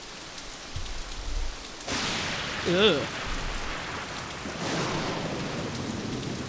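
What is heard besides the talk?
rain and thunderstorm in Nancy Drew video game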